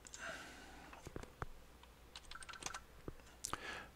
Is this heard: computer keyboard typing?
yes